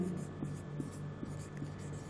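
Chalk or pen writing on a board during a biology lecture, a soft steady scratching with a faint rhythmic tapping of strokes roughly every half second, continuous over a low room hum.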